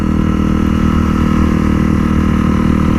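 Motorcycle engine running steadily at close range, a learner-friendly bike with a constant droning hum and faint rhythmic pulsing throughout, loud and continuous with no speech.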